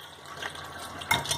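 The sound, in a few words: water draining as bitter gourd peels are strained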